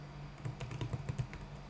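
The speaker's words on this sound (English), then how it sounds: "Type in your old password, then type the password you would like to change to" Quick run of keyboard key presses while a password is typed on a computer, soft clicks in an uneven rhythm over a low steady hum, nearby and fairly quiet.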